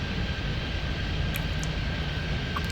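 Steady broadband roar of an airliner's engines as it touches down on runway 08 right at Miami in the Airport Madness 3D game, continuous and fairly loud with a faint tonal whine, no talking.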